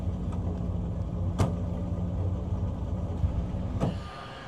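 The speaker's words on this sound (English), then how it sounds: "Nice to see a rotary powered car in this pack of cars" Mazda R100 rotary-engined race car driving on a circuit, a steady engine drone with a couple of brief sharp peaks, moderately loud and without voices.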